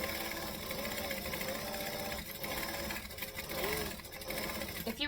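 A sewing machine runs steadily through stitching and back stitching on a tote bag, a continuous close mechanical whir with slight shifts in pace and no break for the full length.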